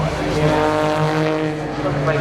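A Seat rally car climbs a hill at the McRae Rally Challenge, its engine note rising and shifting in a close, loud rasp, with a commentator's voice running over it.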